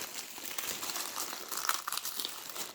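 Plastic bags stuck together with adhesive tape being pulled open, giving close crinkling and crackling with small tearing bursts in an uneven, fidgety rhythm.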